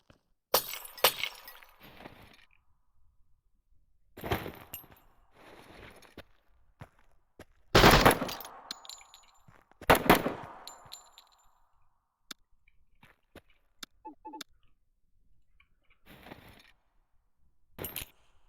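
A squad in Door Kickers 2 fires through building windows: sharp bursts of gunfire mixed with shattering glass, spaced irregularly between quiet gaps, with a few fainter clicks and impacts.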